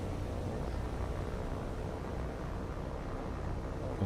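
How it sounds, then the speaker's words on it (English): Faint, steady drone of World War II aircraft engines in a naval combat game, a low broadband hum at quiet, even level with no talking. "We got a couple of enemy aircraft on our tail right now."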